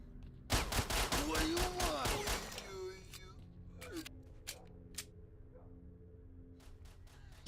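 Rapid bursts of gunfire from a shooter game such as STALKER or Half-Life 2 rattle off loud and close for about two seconds, then give way to scattered single shots and mechanical clicks over a quiet background.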